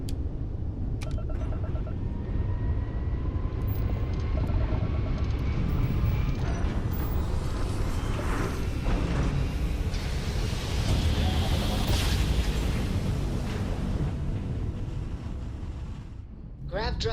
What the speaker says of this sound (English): Grav drive spinning